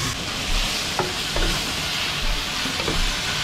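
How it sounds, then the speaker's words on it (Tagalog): Vegetables, chayote and squash, being stirred in a pot for nilaga, with a steady sizzling and a few soft scraping knocks of the utensil over continuous cooking hiss. "Halo ko na itong gulay kaagad."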